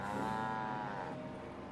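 Cow lowing in Fallout 4, a single drawn-out moo that swells and then fades over music-free game ambience, fairly close and clear with no talk.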